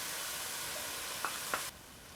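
Spinach frying in a pan gives a steady, close sizzling hiss, broken by two brief stirring scrapes near the end before the sound drops off.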